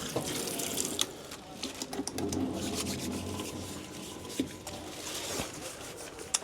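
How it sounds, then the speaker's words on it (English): Tap water runs steadily into a sink in a pizza truck as hands are washed, a continuous close hiss broken by light rubbing and occasional knocks. "Let's wash our hands."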